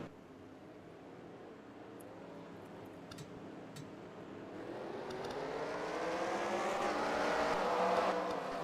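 Race cars in the NASCAR Racing 2003 video game roar up to speed at the green flag at Daytona in an ARCA event, a dense engine drone that swells steadily louder and rises in pitch over several seconds, with no talk.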